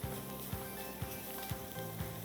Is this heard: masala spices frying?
yes